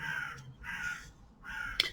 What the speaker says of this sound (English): I can hear the crows that are outside.